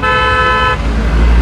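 A car horn blares loudly in a steady held tone over roaring highway traffic, then cuts off while heavy vehicles keep rumbling close by.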